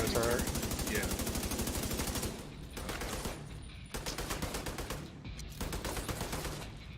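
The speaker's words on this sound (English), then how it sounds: "Is that an automatic gun down there?" Automatic turret fire in a video game, dense rapid bursts of gunshots crackling loudly and nearly continuously, with short breaks between volleys and voices talking underneath.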